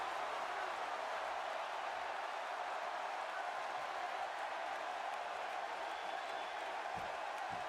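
An arena crowd in the WWE 2K16 wrestling video game, at a show in Cleveland, Ohio, keeps up a steady, even roar of cheering throughout, with no clear peaks or breaks.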